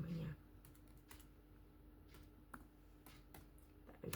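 Keys tapped on a computer keyboard while entering a name into a Java program, a quiet irregular run of clicks spread across the clip with a faint voice at the very start.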